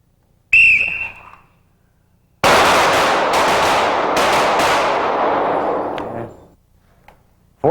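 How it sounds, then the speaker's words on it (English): Rapid handgun fire in a low-light shooting drill: one sharp opening shot, then after a pause a dense burst of quick shots in steady cadence that rings loudly for about four seconds before fading. "4 shots, gentlemen. Same sequence, 4 shots."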